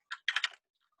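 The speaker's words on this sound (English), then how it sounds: "I have my super clicky keyboard today as well" A clicky computer keyboard rattles off a quick burst of keystrokes, one tap and then three or four rapid clacks, close and crisp, followed by silence.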